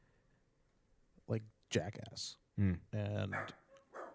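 A pet dog named Tom barks and yips at home in short bursts, mixed in with people talking nearby.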